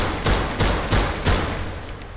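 A Mauser sidearm fires in the video game Grave/Digger: four loud, sharp shots in an even, quick rhythm, each with a short decay, then the tail fades out.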